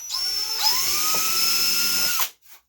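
A power drill at high RPM whines steadily as it bores through 1/16-inch plywood, a sustained high-pitched tone that shifts pitch slightly partway through before cutting off abruptly, followed by a brief faint noise.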